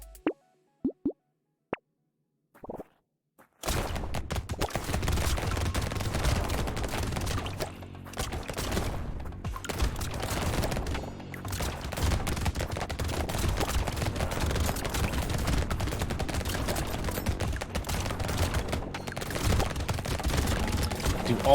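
Shotguns fire rapidly in Brotato, an arena shooter, making a dense, continuous volley of blasts that runs for long stretches after a few isolated pops at the start.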